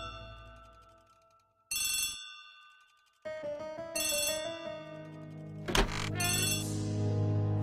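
A telephone rings in the Agatha Christie The ABC Murders game: repeated loud bell-like ringtone bursts separated by brief pauses, followed by a clunk as the receiver is handled, with tonal game music continuing.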